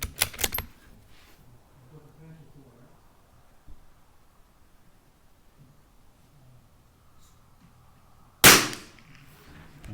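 Tikka T1x .22 LR rimfire rifle fired at a range, a sharp close crack at the start with a quick rattle after it, then a long quiet stretch of faint background before a second loud shot near the end.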